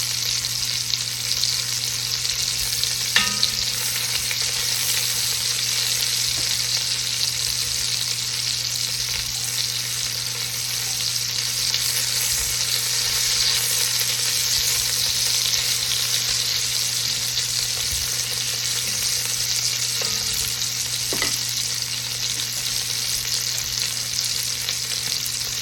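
Beef for a burgundy stew browns in a hot pan over medium heat, giving a steady, close, unbroken sizzle and hiss with a few faint clinks from stirring.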